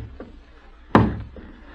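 A single sharp knock on a door in a radio play, close and clear, preceded by a couple of faint taps, in an otherwise quiet room without speech.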